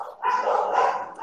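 A dog gives a drawn-out, whining bark-yelp, close and fairly loud, one continuous vocal burst lasting about a second.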